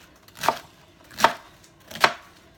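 Knife cutting through a whole head of cabbage on a board, three crisp, evenly spaced chops heard up close in an otherwise quiet room.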